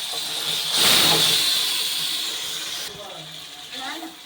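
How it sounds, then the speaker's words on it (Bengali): Marinated mutton tipped into a pan of hot golden-fried onions and spices bursts into a loud, bright sizzle that gradually settles to a steady hiss, with faint kitchen clatter near the end. "দিয়ে দিচ্ছি মেখে রাখা মাংস।"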